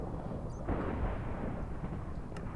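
Deep, loud rumbling thunder rolls continuously and close, swelling briefly in the middle. There is no talking.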